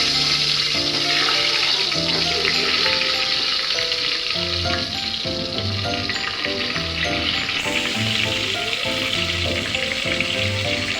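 Stuffed whole brinjals and potatoes go into hot oil with cumin, setting off a loud, steady sizzle and crackle of frying that holds throughout with no talk.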